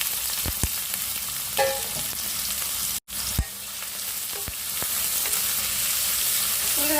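Sliced onions sizzle and fry steadily in coconut oil in a kadai for an egg roast, with a continuous close hiss broken by a few clinks and stirring knocks.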